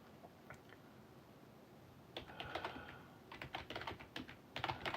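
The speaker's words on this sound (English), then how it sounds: "I'm typing slow as shit because I don't have the commands memorized." Keys clack on a computer keyboard as commands are typed slowly during a Linux session, faint and close, scattered taps at first and then quicker bursts of clicking with no voices.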